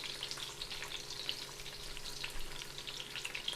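Sauce bubbling and sizzling steadily in a hot pan on a stovetop, a continuous crackling fry with soft popping bubbles, close and fairly quiet, no voices.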